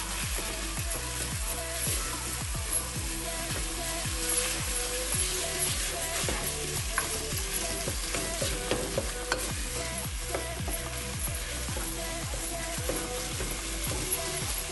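Diced potato frying in a pan with softened ingredients for Turkish-style lentil soup, a steady close sizzle with repeated scraping strokes of stirring throughout, no talk over it.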